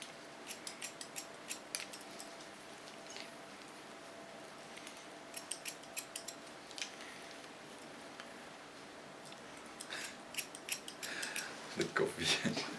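Scissors snip hair with a point-cut technique on the top of the head, giving quick, faint metallic clicks in short bursts with pauses, close and quiet in a still room.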